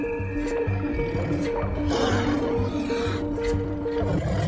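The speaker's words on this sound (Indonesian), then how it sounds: "salah satu dari mereka justru diterkam oleh harimau ini" A tiger roaring as it attacks in a forest, a sustained, rumbling growl-roar with pulsing rhythm, loud and close, layered with rustling and thrashing throughout.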